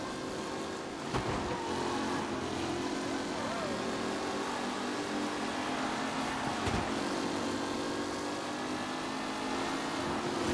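Race cars roar past in Mafia Definitive Edition, a steady, dense engine drone with revving swells running throughout, overlaid by a voice talking.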